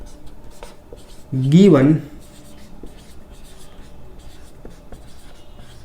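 Chalk or marker scratches and taps on a classroom board during a science lesson on the heating effect of electric current, short faint strokes scattered under a teacher's brief spoken word.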